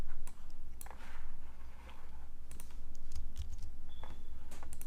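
Fingers typing a web address on a computer keyboard, a steady run of light, close key clicks with brief pauses between bursts, over a low constant room hum and no talking.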